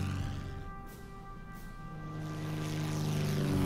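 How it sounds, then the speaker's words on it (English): Enemy aircraft approach in a Pacific naval wargame, Order of Battle: Pacific, a steady propeller-engine drone that swells slightly louder as the planes draw closer, with no other sounds over it. "Alright, enemy aircraft coming in."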